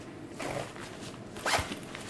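Zipper on a fanny pack pulled in two short bursts, the second a quick, rising rasp, close and soft against a quiet background with faint rustling.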